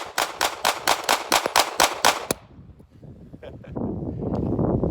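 A Taurus GX4 9mm micro-compact pistol fires 115 grain standard pressure rounds in a rapid string of about nine sharp, loud shots at an even pace. Afterward comes quieter rustling and wind noise.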